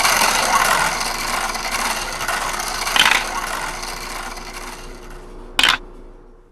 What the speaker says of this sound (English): So I'm going to go ahead and spin the wheel.